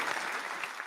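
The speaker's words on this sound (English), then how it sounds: "So many claps" Steady applause from an audience, a short continuous patter of many hands clapping at moderate volume with no talk.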